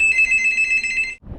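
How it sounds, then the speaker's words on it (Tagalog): A telephone bell rings once, loud and close, a bright trilling ring lasting about a second before cutting off into a dull thump. "Uy, telepono."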